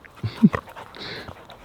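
Dogs beside a newly set-up dog pool on a warm day, giving short close panting breaths and a faint whimper, with no other voices.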